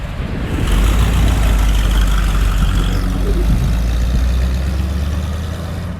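A 1924 Cadillac V-63 engine pulls away on a road in Venice, Florida, giving a loud, steady low rumble that holds close and then eases slightly as the car drives off.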